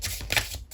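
Tarot cards from a True Love Reading Cards deck are shuffled close by, a brief soft flutter of riffled card stock with a couple of crisp slaps, quiet and without talk.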